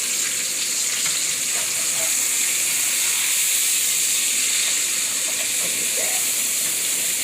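Birria taco meat frying in a hot pan as it is flipped, a steady close sizzle and hiss with faint stirring, continuous and loud throughout.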